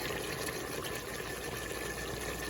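Pineapple mango juice mixed with spring water and brown sugar is poured in a steady, continuous liquid rush, close and even, with nothing else heard.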